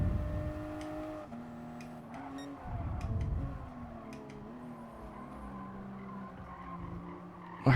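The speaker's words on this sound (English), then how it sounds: "Just got to try and manage the car sliding out on me" A Toyota GR Supra RZ race car in GT Sport at Catalunya slides through corners, its engine droning and shifting pitch with faint tire squeal.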